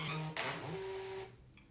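Portable thermal printer running off a full 8.5 by 11 page, a steady close mechanical whir with a sustained tone that breaks off abruptly near the end.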